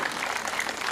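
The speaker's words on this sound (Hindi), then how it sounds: "4 पंक्ति अच्छी लगे तो आशीर्वाद तालियों से देना" Audience clapping at a Hindi comedy poetry gathering, a brief dense burst of many hands applauding together at steady loudness.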